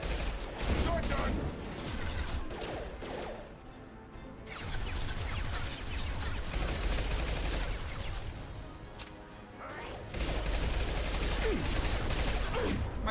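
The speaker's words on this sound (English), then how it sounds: "Stop shooting at me." Dense, sustained gunfire from the Mass Effect 2 video game, a continuous loud barrage of rapid shots and impacts with brief lulls around the middle, heavy combat noise throughout and voices mixed in.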